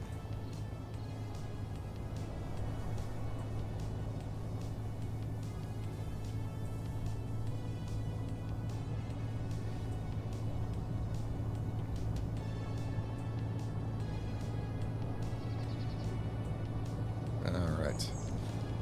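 Space Engineers game truck grinding uphill, a steady low engine drone throughout under speech, with a brief louder burst near the end.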